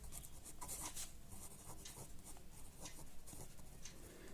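A pen scratches steadily across paper close up, a continuous soft rubbing with faint strokes and no speech, as Telugu exam notes are written out.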